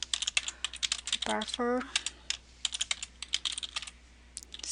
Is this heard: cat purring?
no